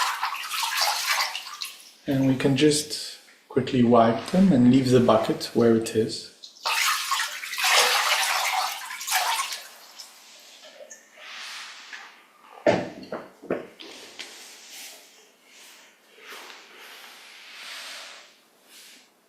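Water poured from a jug over feet into a bucket during a meditation foot soak, bursts of splashing and gushing broken by pauses, with a calm voice talking between pours.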